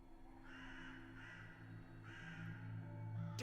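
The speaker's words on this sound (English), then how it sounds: "Damned crows!" Crows caw in the dark horror video game Saint Kotar, three harsh rasping calls spaced about a second apart over a low droning ambient background, moderately loud and close.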